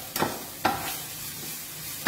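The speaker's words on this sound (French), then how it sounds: "Je vais laisser cuire un instant mes légumes" Vegetables sizzle in a pan for a tomato-sauce meatball dish, a soft continuous frying hiss broken by three sharp scrapes of stirring.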